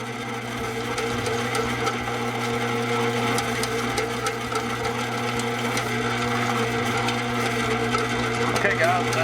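A bread machine kneads yeast bread dough with a steady, mid-pitched motor hum and faint rhythmic churning, loud and continuous throughout, with no voices on top.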